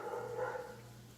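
A new pet dog gives a single faint, drawn-out bark or whine, heard at a distance and quiet.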